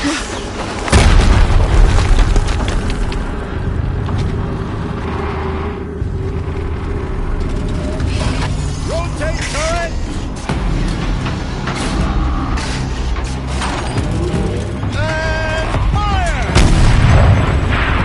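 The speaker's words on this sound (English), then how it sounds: "Another explosion." Explosions in the video game Horizon Zero Dawn, a heavy boom near the start followed by rumbling blasts and chaotic mechanical battle noise with rising whines, loud and continuous throughout.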